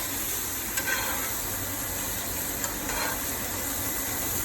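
Chopped garlic sizzling in melted butter in a tilted pan beside NY steaks, a steady soft hiss with a few faint clinks, no talking.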